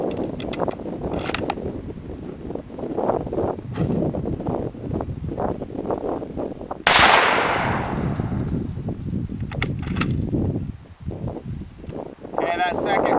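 A 7.92x57 rifle fires a 150 grain Speer hand load loaded with RL-15: one loud, sharp report with a sweeping decay midway through, set in heavy outdoor wind buffeting and rustling.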